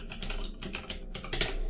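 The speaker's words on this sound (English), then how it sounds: "I'm just going to type in my test folder" Fingers typing on a computer keyboard, a soft, quick patter of key clicks in short bursts, close but quiet.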